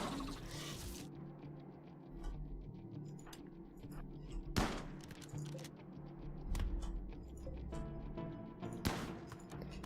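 Sparse gunfire from soldiers in a combat video game: a few sharp, separate shots cracking out at intervals over a low, murky background rumble.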